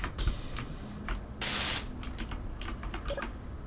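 Typing on a computer keyboard produces quick irregular clicks and taps, close and crisp, with a brief louder clatter of several keys in the middle, heard alone without voices.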